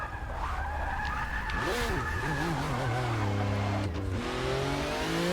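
McLaren Honda MP4/4 race car in Forza Motorsport 6 skids loudly, its tires squealing in long sweeping tones over a steady, close engine drone that rises and falls as the car slides.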